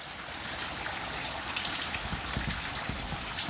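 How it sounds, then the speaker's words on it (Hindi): Continuous rainfall patters as a broad, steady hiss with scattered heavier drops, moderately close and with no one speaking. "थोड़ी बरसात की वजह से प्रॉब्लम हो गई है"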